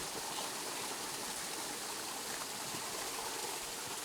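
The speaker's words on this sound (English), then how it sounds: "this is the first time water's been flowing through here before" Water flows through a tunnel as a steady, broadband rushing hiss, constant and fairly quiet, with no voices over it.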